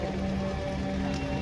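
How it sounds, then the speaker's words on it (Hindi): Heavy rain pours steadily in a dense, constant hiss with no breaks, loud and close, while a faint hum runs beneath it. "अभी बारिश झमझमा रही है"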